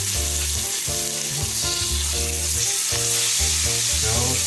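An A5 Wagyu steak sears fat side down in a hot pan with a loud, steady, crackling sizzle, while rhythmic background music plays underneath.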